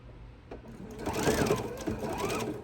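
A sewing machine stitches an apron in a quick, close burst, its needle rattling rapidly as it speeds up after a brief soft click, with a faint voice nearby.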